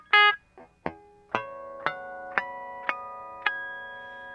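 Natural harmonics rung at the fourth fret of a guitar, a major third two octaves above the open string: a series of about seven bell-like plucked tones, each sharp attack followed by a clean ringing sustain, played alone and close.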